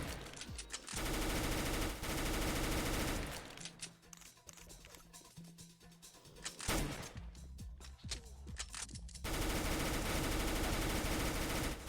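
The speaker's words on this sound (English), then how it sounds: "Bro, I am automatically firing!" Automatic weapon fire in a video game roars in long sustained bursts, loud and dense, broken by a few seconds of quieter clicks and tapping before the continuous firing resumes.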